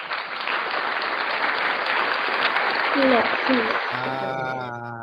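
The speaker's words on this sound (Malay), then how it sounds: "Tepuk tangan sikit." Applause from a class of pupils, dense and steady clapping for several seconds, with a voice rising over it near the end as the clapping fades under a sustained tone.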